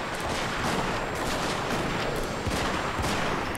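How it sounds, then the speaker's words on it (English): Continuous, loud musket volleys and artillery fire rattle through a Shogun 2 battle, with dense crackling shots layered over heavier booms and no pause across the stretch. "hopefully we'll get some good firing against these that have just started to come down"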